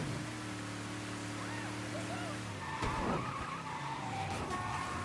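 A car skids in Mafia 3: Definitive Edition, steady engine hum giving way to a brief tire screech and scraping slide midway, fairly close, with a voice faintly present underneath.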